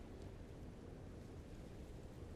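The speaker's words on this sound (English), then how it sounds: "Here comes a wave here" Water washing and rushing over rocks on a rocky shoreline at dawn, a steady broadband surf wash with wind noise, continuous and close throughout.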